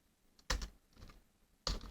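Typing on a computer keyboard while writing Python game code, a few close, loud key clicks with short gaps between them, no talking.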